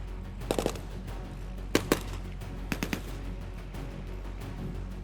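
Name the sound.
tank gunfire in a Gulf War battle re-enactment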